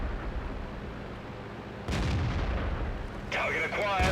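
Heavy tank gun fire in World of Tanks from the British FV201 A45: a sustained rumbling roar of cannon blasts and battle noise, with a sharp new burst midway and another crack near the end, loud throughout.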